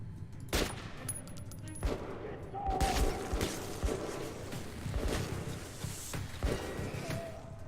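Gunfire in Metro 2033 Redux: several sharp shots scattered across the stretch, some in quick pairs, over a busy background of game noise and faint movement.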